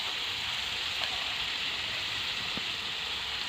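Taro pieces dropped into a hot pan already holding dried fish, garlic, onion and spices on a village clay stove, giving a steady, even sizzle and hiss that runs alone throughout with no talk.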